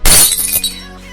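A medicine container is dropped and shatters in a single loud, sharp crash, with bright glassy debris ringing briefly and fading over about a second.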